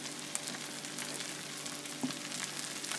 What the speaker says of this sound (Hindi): प्याज को भी हम बीच में डाल के ये देखें इसको लाइटली इसमें फ्राई कर लेंगे